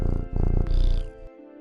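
A cat purring in the video game Teddys Haven as it is petted, a short close rumbling purr in rhythmic pulses with a soft meow-like chirp near the end, heard alone.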